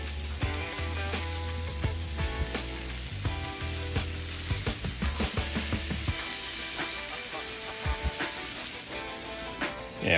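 Brats and smash burgers sizzle loudly and continuously on a Char-Griller Flat Iron griddle, a dense steady frying hiss with occasional scrapes and clinks of a spatula.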